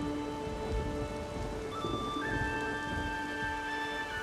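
Rain and storm in The Witcher 3 video game: a steady wash of rainfall with sustained tonal layers over it, continuous and moderately loud with no voices.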